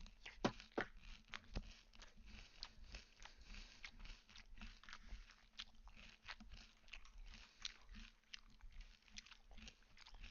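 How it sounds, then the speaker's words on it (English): Loud, close chewing and crunching picked up by a live-stream microphone, with irregular wet bites and mouth clicks repeating steadily over a low background hum. "Llama, please fix your mic. I don't want to hear you chewing so loudly."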